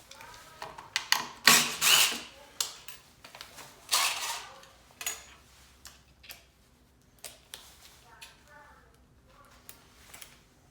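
A screw is backed out of an engine mount for a Honda GX200 clone engine, giving a string of irregular clicking ratchet-like ticks, loud bursts early and fainter taps later, with someone talking over parts of it.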